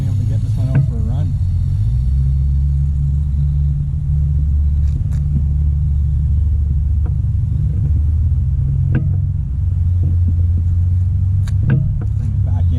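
A thirty-year-old vintage RadioShack Aero Buggy RC car, refitted with modern electronics, drives with a continuous low electric motor rumble that holds steady throughout, while someone talks over it.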